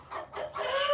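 Chickens cluck close by in a barn during milking, a few overlapping clucks and squawks that build toward a louder, sustained call at the end.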